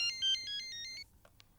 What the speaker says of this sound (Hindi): ये फ़ोन बज रहा है आपका जी, प्लीज़।